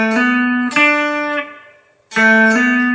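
Single notes plucked on a cigar box guitar, the B string fretted at the third fret, ringing clearly with sharp attacks and bright sustained overtones, several struck one after another with a short silent gap.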